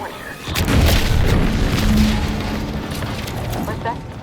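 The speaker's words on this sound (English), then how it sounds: "What's that? An explosion?" A deep explosion booms in the video game The Outer Worlds 2, a loud low rumble that swells and slowly fades, with a voice speaking over it.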